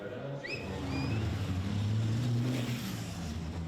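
Racing trucks of the European Truck Racing Championship rolling off on formation laps at Le Mans, a deep, sustained engine rumble that swells and builds steadily, heard from a distance, with a few high whistling tones early on.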